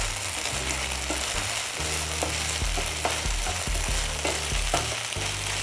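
Soaked sabudana fries in a pan with a dense, continuous sizzle, punctuated by soft scraping and stirring strokes, close and steady, with no voices.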